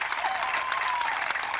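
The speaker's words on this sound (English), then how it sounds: "the crowd is giving a well-deserved round of applause to both pitchers" A crowd at a 1988 Little League World Series game in Glendale applauds the pitchers, with steady, dense clapping that runs evenly through the moment and has no pauses.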